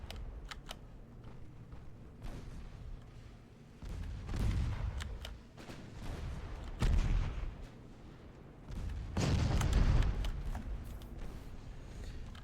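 Naval gunfire from warships in the game Ultimate Admiral: Dreadnoughts, a string of booming shots and sharp cracks that rise in several heavy bursts, with rumbling low thuds and no talk.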